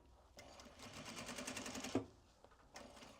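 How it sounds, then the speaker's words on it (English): A sewing machine stitching an upcycled obi fabric belt bag, running in a steady rapid burst for about a second and a half, then pausing and starting again briefly; close and fairly quiet. "I was going to sew this from the center out"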